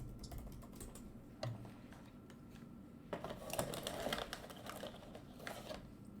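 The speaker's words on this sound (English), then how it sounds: "everyone looks like they're typing now" Soft, scattered keystrokes on a computer keyboard patter irregularly, quiet and close, with a few louder clusters of clicks midway.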